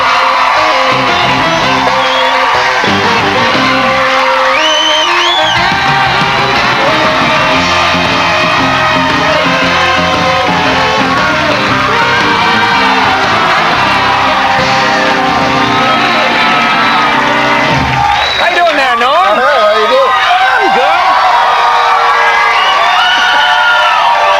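A late-night talk show studio audience cheers, whoops and yells loudly for comedian Norm MacDonald's entrance, a dense sustained roar of crowd shouting that swells again near the end.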